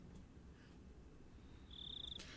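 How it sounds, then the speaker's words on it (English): Crickets chirp at night through a quiet, low background rumble, with one faint, sustained high-pitched trill rising near the end of the short stretch. "I could hear the crickets"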